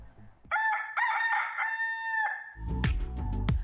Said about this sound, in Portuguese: vamos chamar o galo para cantar para você